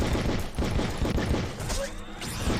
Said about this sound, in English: I keep shooting over him